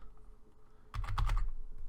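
Quick clustered keystrokes on a computer keyboard, a short close burst of typing after a quiet moment.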